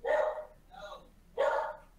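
A female dog barks three times, close and loud, with a softer middle bark, during a casual livecast with people chatting nearby.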